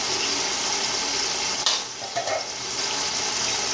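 Chopped tomatoes frying in a pan while making Punjabi chicken pulao, a steady broad sizzle with a few brief stirring scrapes partway through.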